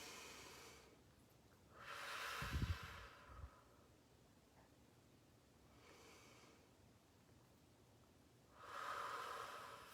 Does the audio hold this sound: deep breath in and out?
yes